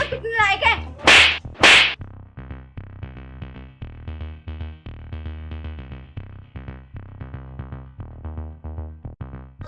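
Two sharp, loud slap cracks land close together near the start of a rural Haryanvi family drama scene where a child is being beaten, followed by a rhythmic, pulsing musical backing.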